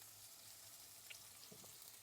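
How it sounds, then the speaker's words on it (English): Steak sears in a hot cast iron pan, a faint steady sizzle with a few soft pops and stirs, heard close and alone. "put this down and hear the nice sear"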